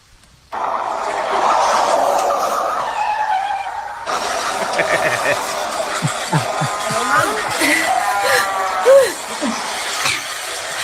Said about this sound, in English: I just had a car crash.